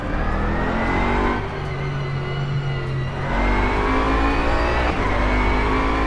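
GT3 race car engine in the rFactor 2 sim, held at a steady drone with harmonic whine, dipping briefly in pitch then rising again as it revs; loud, close and continuous with no talking.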